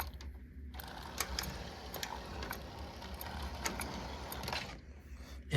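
Regular mechanical clicks from the failed liquid-smoke bellows unit of an Atlantic starter-set model train, a steady rhythmic ticking over a faint motor hum that stops near the end.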